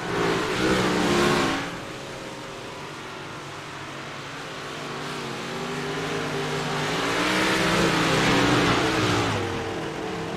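Big block modified race cars roar around a winter dirt track, engines surging loudly as cars pass close, fading between passes and swelling again, with no talk over the engine noise.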